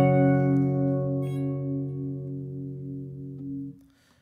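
A single barre chord on guitar, barred at the 7th and 10th frets, strummed once and left ringing as it slowly fades before being muted, close and alone.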